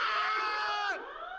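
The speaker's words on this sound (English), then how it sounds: "One of the task force personnel screams" A task force member screams in the horror video game Doki Doki Anomaly, a loud, sustained high-pitched shriek that bends downward and breaks off near the end, leaving a fainter trailing tone.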